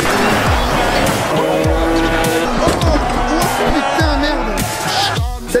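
An ice-racing car at the Trophée Andros arrives at the timing line, loud engine revving up and down with repeated gear shifts and tire squeal, a commentator's voice running over it and crowd noise behind.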